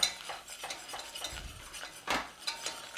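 Flour is stirred into a roux in a pan, producing soft, irregular scrapes and clinks of a utensil against the pan at close range, with a faint sizzle underneath.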